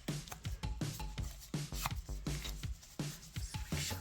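A tool scrapes dried nail polish off a fingernail in a steady series of short, rhythmic rasping strokes, close and fairly quiet, with no voices.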